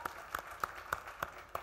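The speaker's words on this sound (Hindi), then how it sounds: "पहले कंगना के लिए जोरदार ताली हो जाए।" Audience applause for Kangana Ranaut at The Voice India Kids show launch: faint, evenly spaced claps in a steady rhythm, about three per second, heard from a distance.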